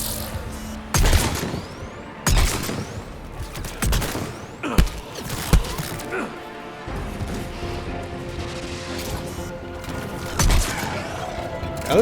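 Gunfire in the video game Mass Effect 3, loud repeated bursts and single shots with booming impacts, irregular and close, layered over a rumbling combat backdrop.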